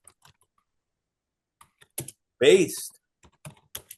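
Scattered keystrokes tap on a computer keyboard in short bursts with pauses between them, close and crisp, while a voice briefly speaks.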